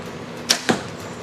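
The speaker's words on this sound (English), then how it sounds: "The sound on this bow, you can hear this thing, it's just whisper quiet." A 2011 Bear Carnage compound bow releases an arrow, two quick soft snaps in succession over a low steady background, quiet overall.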